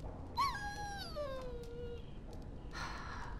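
A dog in Dragon Age: Origins gives a single drawn-out, high whimpering whine that slides downward and fades. It sits over a steady low ambient game background, followed by a faint brief rustle.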